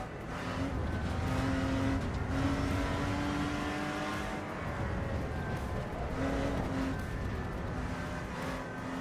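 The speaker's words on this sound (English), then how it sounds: "This is the Lotus Exige D6" Lotus Exige D6 race car in the Assetto Corsa Evo racing game, its engine droning steadily and loudly throughout with a sustained tonal whine that rises and falls slightly as it drives.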